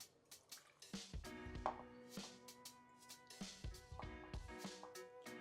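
Water poured onto gelatin powder in a bowl while making a banana cake, soft close splashing and dripping with scattered small knocks, fairly quiet and continuous.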